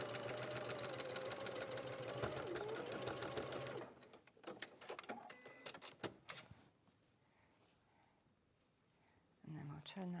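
A sewing machine runs a reverse stitch on a garment seam, a dense rapid mechanical chatter for several seconds, then it stops and quieter handling sounds and faint talk follow.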